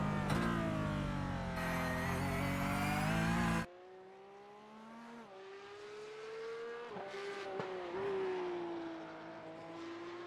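A Porsche Cup race car in a racing simulation game at Laguna Seca climbs the hill toward the Corkscrew. The engine screams loud and harmonic-rich, drops sharply in pitch at an upshift, then climbs again under steady revving.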